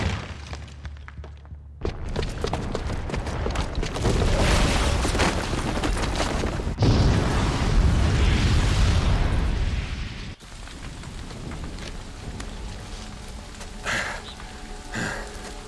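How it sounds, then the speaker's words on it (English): A booby-trapped bomb going off in Horizon Zero Dawn, heard as a sustained, loud roaring blast with heavy low rumble and crackling debris that swells, surges again, then cuts to a quieter rumbling aftermath. "the booby trap on the bomb downstairs is gonna get set off"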